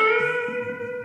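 An electric guitar note bent up to B at the 14th fret in a blues lesson rings as a sustained tone with strong harmonics, heard briefly and at moderate level.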